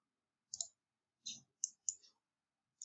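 A computer mouse clicks crisply while drafting dimensions, with five sharp, close clicks spaced irregularly over near silence.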